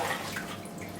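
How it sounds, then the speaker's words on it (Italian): Six litres of water pouring steadily into a pizza dough of semi-wholemeal and 00 flour, a continuous close rushing splash with no pauses and no talking. "inseriamo 6 litri di acqua"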